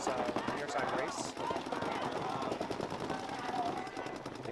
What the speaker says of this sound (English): there's two guns shooting his way